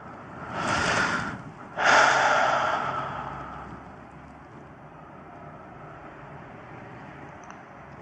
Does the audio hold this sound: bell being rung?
no